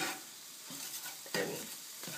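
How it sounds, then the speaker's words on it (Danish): Scrambled eggs fry and sizzle in a pan while a utensil chops and stirs them, giving a steady hiss broken by several louder scraping strokes. "Jeg hakker altså lidt i stykker for at være sikker på, at det sådan bliver stegt ordentligt indeni os."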